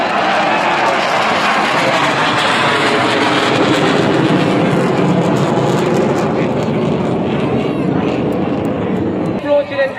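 A Kamov Ka-31 helicopter flies past over a beach fleet review, a loud, steady rotor and engine roar that fills the whole stretch, with announcer speech over it.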